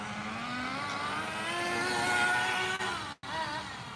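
Tamiya Terra Crusher nitro RC truck with a low-compression engine screams at a steady high rev, pitch climbing slightly, then cuts out abruptly for a split second before roaring back.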